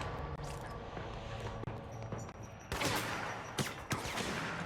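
Rapid gunfire in the game Control, a steady rattle of shots running throughout with a few sharper louder bursts toward the end, alone without talk.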